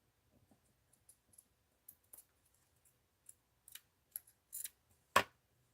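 Scissors snipping paper for a mixed-media art journal, a handful of sparse, quiet cuts spread unevenly, ending with one sharper, louder snip close by against a near-silent background.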